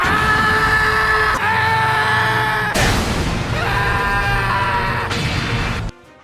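Guzzlord, the garbage-eating Ultra Beast from the Pokémon games, lets out a loud, harsh synthesized roar in several distinct segments, growling and screeching with crashing bursts across about six seconds, with no one speaking.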